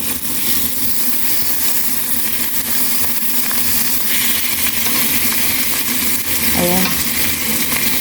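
Salmon sizzles steadily in a frying pan, a dense hiss and crackle filling the whole stretch, with a few kitchen clinks and a brief word spoken near the end.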